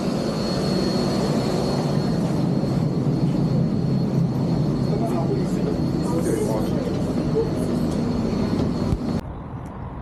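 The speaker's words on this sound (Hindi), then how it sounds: "सो अभी हमारी MRT बस आने की है।" A Singapore MRT train arrives at night with a loud, steady rumble and rushing roar that cuts off abruptly near the end; a voice talks faintly underneath.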